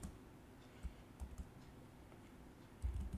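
Python code is typed on a computer keyboard as a few soft, scattered key taps and a short cluster of clicks, faint and close over a low room hum, no talking.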